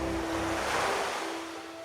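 Ocean waves surge in a broad, rushing swell that builds and then recedes, with a faint steady tone running underneath.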